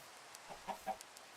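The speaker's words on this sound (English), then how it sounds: "Ooh, we got some chicken." Chickens clucking in Minecraft, a few short soft clucks scattered over a quiet background, faint and intermittent.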